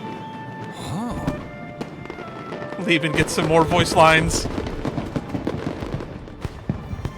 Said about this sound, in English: A fireworks show?